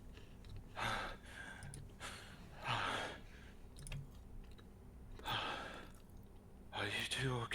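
Heavy breathing acted out by a player during a tabletop role-play session: several long, breathy exhalations and sighs spaced a second or two apart, close to the microphone over a low room hum, with a voice imitating the panting.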